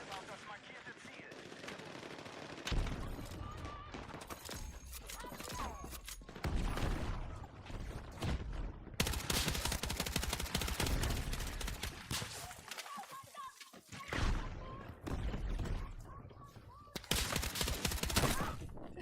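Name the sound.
gunfire from video game Battlefield 6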